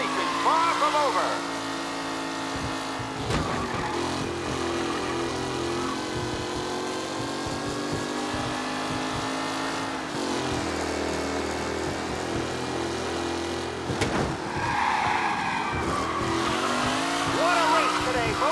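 Race cars in the video game Mafia Definitive Edition roar steadily through a race, engine drones shifting pitch as they rev and accelerate, with occasional tire squeal, all under continuous commentary.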